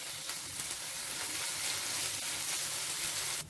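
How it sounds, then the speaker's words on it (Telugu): Ginger garlic paste frying with onions in a pan gives a steady, close, bright sizzle, crackling evenly throughout before cutting off at the end. "ఈ అల్లం వెల్లుల్లి పేస్ట్ పచ్చివాసన పోయే వరకు ఫ్రై చేసుకోవాలి."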